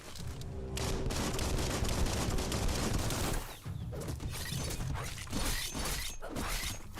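Combat in Biomutant brings a loud, dense volley of gunshots with mechanical clanks and crashing impacts, then a short pause and more scattered shots and thuds.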